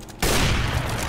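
A single booming AWP sniper rifle shot fires during a jump in a first-person shooter game, a sudden loud blast that rings out and decays over about a second.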